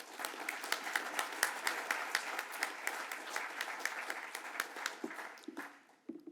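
A large audience breaks into applause to welcome a panel speaker, with dense, sustained clapping that stays loud for several seconds and then tapers off into a few scattered claps and small rustles.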